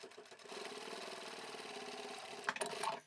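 Sewing machine stitching through bulky vinyl upholstery fabric, running in reverse and then forward again; a steady, close mechanical whir with a quick rhythmic needle patter, briefly changing pace near the end.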